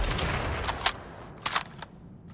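Gunfire from a slow-firing weapon in the sci-fi shooter ALARA Prime, several sharp shots in quick succession with ringing tails over a low background hum.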